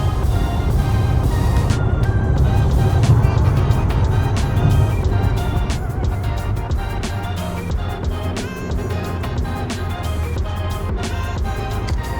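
A car drives along on the way to Busch Gardens, with a steady engine and road rumble under busy cabin noise, continuous and close for the full stretch.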